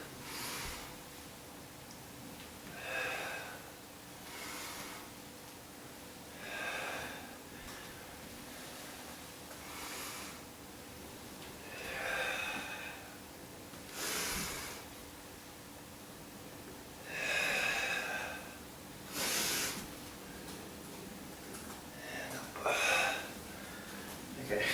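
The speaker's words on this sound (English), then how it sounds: "Soft breathing is different than combative or hard breathing" Slow, soft breathing during a relaxed group exercise session, with a series of gentle breathy inhales and exhales recurring every few seconds over a quiet room hum, faint and close.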